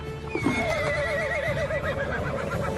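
A horse whinnies loudly and close, a long wavering neigh lasting a couple of seconds, with faint hoof movement beneath and no talk.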